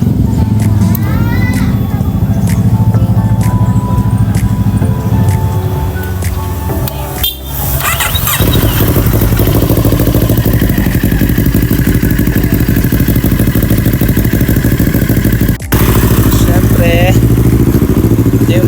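A motorcycle cold-starting and idling at close range, a loud steady engine rumble with clattering, a brief dip midway, and people talking over it.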